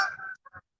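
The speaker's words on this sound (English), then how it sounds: "Birds flying." Birds honk like geese, one long, loud call followed by two short, clipped honks, heard alone and close.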